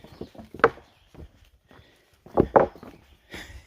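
Footsteps thudding and creaking over loose wooden boardwalk boards on a hiking trail, a few close irregular knocks in two clusters with quiet gaps between them.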